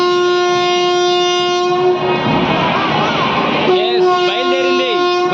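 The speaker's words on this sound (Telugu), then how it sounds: "బయలుదేరింది గుంతకల్ మార్కాపూర్ ప్యాసింజర్." Guntakal–Markapur passenger train pulling out of the station, with a loud sustained horn blast over the rumble and clatter of rail cars close by, and voices talking underneath.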